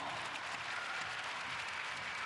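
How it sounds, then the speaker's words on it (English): Warm applause from a stadium crowd for a gymnast after her floor routine at a World Cup event in Doha, a steady, dense wash of clapping that holds evenly throughout. "nice to get some warm applause, which she deserves"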